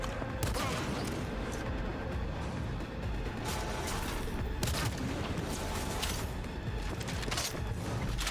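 Armor-piercing gunshots in Cyberpunk 2077 come as a dense, continuous barrage of loud gunfire and mechanical clatter, with sharp bursts standing out over a steady wall of game combat noise.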